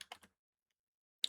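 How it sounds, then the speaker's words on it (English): Keys click on a computer keyboard: three quick taps close together, a short silence, then one more sharp tap, all close and fairly quiet. "start typing the name"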